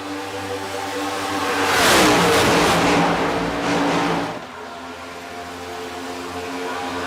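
NASCAR Next Gen race cars in the iRacing sim at Las Vegas Motor Speedway roar past, engine noise swelling to a loud peak, then easing back to a steady drone near the end.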